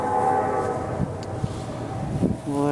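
A train rumbles past in the distance during outdoor Nerf blaster range testing, with a horn sounding at the start and end and a low rolling clatter in between, fairly loud and continuous.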